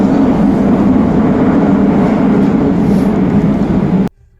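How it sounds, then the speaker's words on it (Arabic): A Cairo metro train rumbles along with a steady, loud low roar and hiss of the carriage in motion, the noise continuing evenly before cutting off abruptly near the end. "هنا بقى كنت قاعد في المترو"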